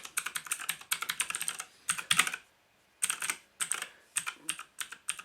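Rapid, uneven clacking of key presses on a JK-TECH E-Element Z-88 mechanical gaming keyboard, close and crisp in bursts with one short pause, no voices.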